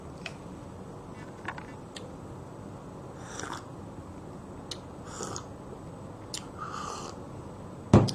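Someone chews a food product close to the microphone, a few soft crunchy bites and moist chewing sounds spaced over a low background hiss, ending in a sharper thump.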